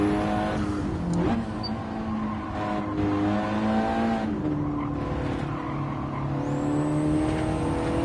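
A car in Gran Turismo 7 runs laps on a race track, its engine droning steadily with rising and falling pitch through gear changes, and tires squealing under cornering, loud and continuous with no talking.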